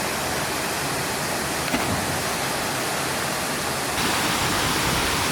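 Big Rock Falls, a waterfall in Guatemala, roars steadily and loudly at close range, a constant broad rushing wash of water with no voices.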